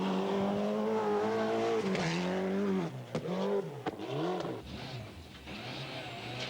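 Marcus Gronholm's rally car runs on a wet, slippery circuit in the Ardennes, its engine revving hard and loud, pitch rising and falling through gear changes with sharp clunks and dips as it slides and accelerates away.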